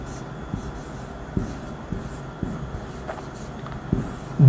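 Writing on a board or paper, with soft scratchy strokes and several distinct taps at irregular intervals against a quiet room hum.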